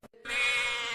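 A single loud, close goat bleat, one drawn-out wavering cry after a short preceding sound, heard on its own.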